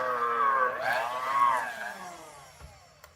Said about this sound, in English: We're gonna mix that with our electric mixer.